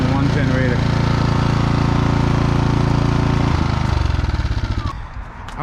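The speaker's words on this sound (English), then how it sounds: "you need both generators running to get your 240 volt" Two GENMAX GM4600i inverter generators linked in series-parallel run together with a loud, steady engine drone and buzzing hum, which shifts and sputters near the end as the load or one unit changes.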